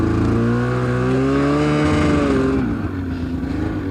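Snowmobile engine held at steady throttle on very soft powder snow, a loud close droning whine with rising harmonics that eases off near the end as the track spins and sinks.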